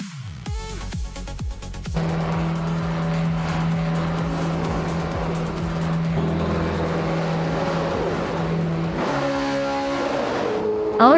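Vintage race cars, including a 1966 Matra MS5, starting a race at Autodromo de Antioquia: loud, close engines blip and rev, then settle into a sustained high droning roar, with a fresh surge of revving near the end.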